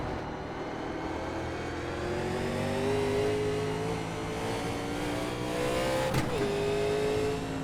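A 1987 NASCAR Legends race car in iRacing at Road Atlanta holds a loud, steady engine drone at part throttle that rises gradually in pitch, with a brief sharp shift near the end.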